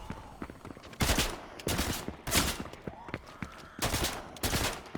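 Rapid bursts of gunfire from the video game Fortnite crack out in repeated loud volleys, roughly one burst every second, over a busy game background.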